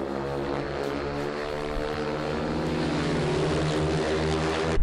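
At an AMA speedway national qualifier in Perris, a speedway bike engine drones on a big track, loud and unbroken, swelling slightly near the close, with no voices present.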